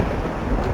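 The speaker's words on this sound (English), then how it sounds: "Oh, that's some pretty strong thunder and lightning." A deep, rumbling roll of thunder from a storm in the zombie survival game The Dead Linger fills the brief moment, loud and continuous with a soft rain wash beneath.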